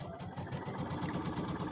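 A sewing machine runs steadily while stitching a quarter-inch seam on quilt fabric, producing a close, rapid, even mechanical chatter throughout.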